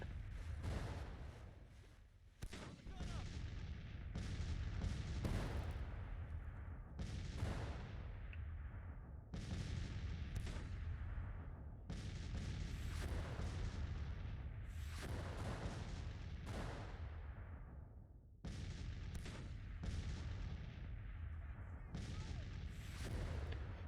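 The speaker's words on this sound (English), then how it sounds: "this bombardment at basically maximum range is cool, but it really doesn't do much" Long-range artillery bombardment in Grand Tactician: The Civil War gives repeated deep booms, a dozen or so, at irregular intervals, each rumbling and fading into the next.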